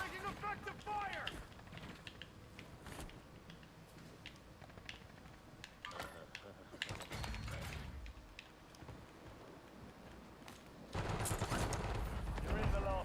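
Rapid gunfire crackles through a battle royale video game match, with bursts of shots over a constant background of game sound and voices talking excitedly, growing louder and denser toward the end.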